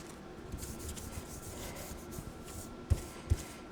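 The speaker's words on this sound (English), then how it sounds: "Just gonna flip it over and give it a rub." A hand rubs firmly across a 12x12 paper scrapbook layout with a hexagon background, a close, steady scraping friction with two soft thumps near the end.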